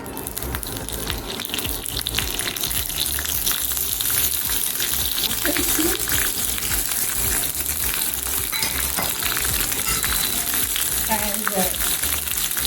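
Curry leaves sizzling in hot oil for tempering in a home kitchen, a steady crackling fry throughout with a brief spoken word.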